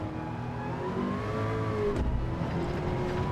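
Ford GT Spec II race car in Gran Turismo 7 holds a steady, sustained engine drone at high revs in sixth gear, with a brief whooshing pass midway and the tone shifting slightly as it settles.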